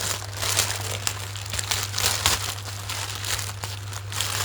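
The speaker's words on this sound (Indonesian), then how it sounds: "Unboxing paket apa kira-kira teman-teman?" Plastic packaging crinkles and rustles as a parcel holding slippers is unboxed, close and fairly loud, in irregular crackling bursts over a steady low hum.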